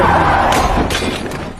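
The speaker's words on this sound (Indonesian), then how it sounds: "karena satu kaca spion mobilnya rusak" A car side mirror breaks in a Korean film: a sharp glassy crack, then two more brittle shattering bursts over a low, steady rumble of background noise, all close and fairly loud.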